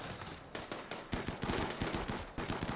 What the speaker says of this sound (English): Those assault rifles do reach a very long way, don't they?